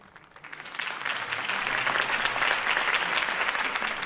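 Crowd applause in the video game Batman: The Telltale Series breaks out, swelling quickly and holding steady, dense clapping with no voices standing out.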